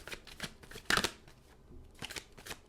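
Tarot cards are shuffled by hand in a quick series of crisp riffling bursts, with one louder flurry in the middle, close and soft with no voice over it.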